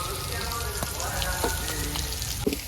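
Onion and garlic fry in a pan over a village cooking fire, sizzling in a steady, dense crackle with scattered louder pops throughout.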